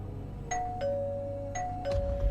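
A doorbell rings twice, each press giving a clear two-tone ding-dong chime over a quiet low background hum.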